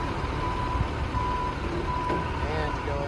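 A heavy truck makes a three-point turn on a septic tank job site, reversing beeps sounding in a steady rhythm over its low engine rumble, with people talking nearby.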